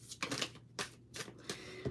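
Tarot cards are shuffled in a few quick, uneven riffling bursts, close and fairly faint, with short pauses between the snaps.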